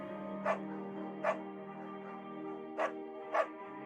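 Four short, sharp barks from a beagle named Bucket in the video game Firewatch, evenly spaced over a steady low ambient drone.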